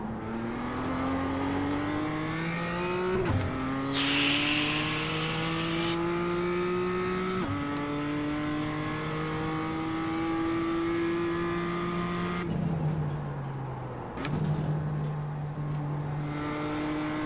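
A BMW M2 race car laps Tsukuba circuit, its engine revving hard and climbing in pitch through several upshifts, then dropping on a downshift, with brief tire squeal, loud and close throughout.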